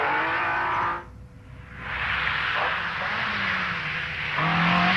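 A heavy Mercedes 450 SL rally car from 1980 drives by, its engine note loud and harmonic, dipping briefly as it passes, then rising again with the pitch climbing under acceleration, with no talk over it.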